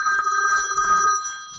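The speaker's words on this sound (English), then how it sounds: "as the phone rings." A telephone rings loudly and steadily with a bright, sustained electronic trill that fills the whole moment, with no voices over it.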